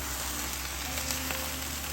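Shrimp, okra and sausage frying in a spicy pan dish, a steady close sizzle with faint stirring ticks, no voices.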